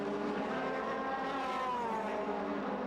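DTM touring race cars, Bernd Schneider and Laurent Aiello among them, blast through a chicane beside a cement wall in the 2003 season, engines droning loud and continuous with pitch sweeping as they pass, no talk.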